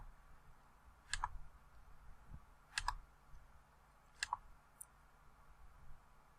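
Four or five sharp mouse clicks on a computer as pictures are saved one by one, evenly spaced about a second and a half apart against a quiet room hum.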